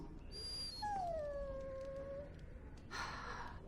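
A dog in the video game Dragon Age: Origins gives a faint, drawn-out whimpering howl, one long falling whine with a short yip before it and a soft rustle afterward.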